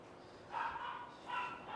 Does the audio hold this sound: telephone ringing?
no